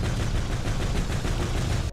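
Enemy gunfire in the Ratchet & Clank 2 video game, a dense continuous barrage of rapid shots crackling steadily for the whole stretch, with no talking.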